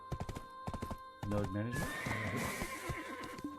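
A horse whinnies loudly in the Black Desert Online video game, a long neigh right after someone speaks briefly, with hoof sounds mixed in.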